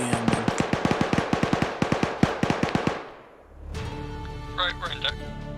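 Gunfire in the military game Arma 3: a loud, rapid string of close shots for about three seconds, then a pause and quieter game ambience with radio-like tones.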